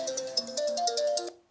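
A mobile phone ringtone plays a quick, bright melodic pattern of repeated electronic notes for over a second during an evening lecture, then cuts off and fades.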